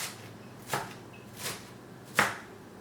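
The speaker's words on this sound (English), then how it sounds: "So I'm just going to chop this up a little finer." A knife chops greens on a cutting board in three separate, evenly spaced strokes, each a short crisp thud close by, with quiet between them.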